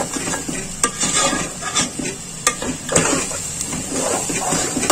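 Food being roasted in ghee and stirred in a pan, with steady scraping and clinks of the spoon against metal over a soft sizzle, close up.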